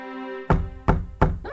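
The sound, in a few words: servant knocking on a bedroom door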